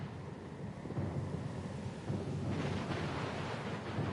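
A storm at sea around a small sloop: steady rain and wind with low rolling thunder rumbling continuously, loud and dense throughout with no voices.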